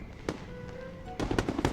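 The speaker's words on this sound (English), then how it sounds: "That's definitely fireworks." Fireworks bursting in the video game Infinity Nikki, a faint crackle followed by several loud, sharp pops in quick succession.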